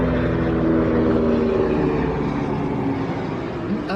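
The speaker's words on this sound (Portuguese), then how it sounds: "Avião." An airplane drones overhead, a steady, fairly loud engine hum with tonal overtones that fades slightly toward the end.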